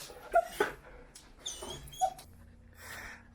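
Australian Shepherd Lexi, a young dog nearly two years old, whimpers and yips in a few short, high whines with soft breathing between them, close and indoors.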